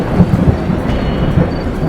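Thunder rumbles low and steady through a continuous wash of heavy rain, loud and close, used as a stormy effect in a Hindi horror story.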